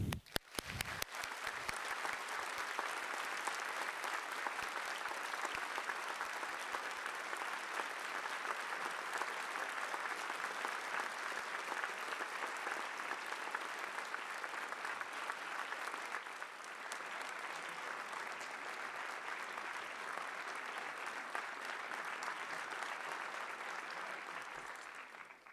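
Sustained audience applause welcomes Professor Ohsumi onto the stage, dense and even clapping from a large crowd that continues for about twenty-five seconds, easing slightly toward the end.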